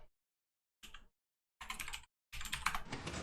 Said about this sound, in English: when I type toggle in chat,